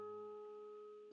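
A single guitar harmonic on the 5th string at the 5th fret rings as a pure, steady bell-like tone, fairly faint and slowly fading, alone with no talk.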